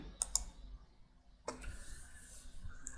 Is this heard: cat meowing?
no